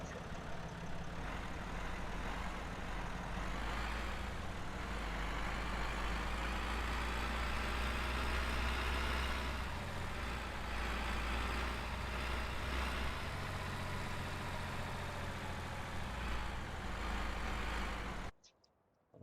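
A tractor engine in the Farming Simulator 17 video game drones at a heavy, low idle, steady and loud for close to twenty seconds before cutting out abruptly, with no talk.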